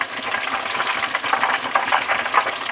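Fish frying in a pot of hot oil, a dense, continuous bubbling crackle and sizzle, loud and close with no voices.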